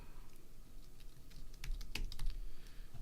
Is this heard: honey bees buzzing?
no